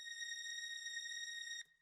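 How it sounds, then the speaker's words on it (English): Sustained high string pad from the Purity plugin, played slow up around C7, holding steady bright tones alone for about a second and a half before cutting off. "those, I played them up here in the C7s, and those by themselves sound like this."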